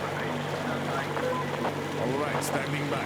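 Boat engine droning steadily in Metro Exodus, a low continuous hum with wind and water noise around it, while someone speaks briefly over the top.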